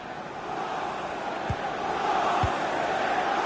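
The stadium crowd in FIFA 20 keeps up a steady, broad roar of distant voices throughout, with two brief thuds cutting through it.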